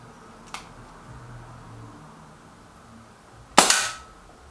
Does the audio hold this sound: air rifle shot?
yes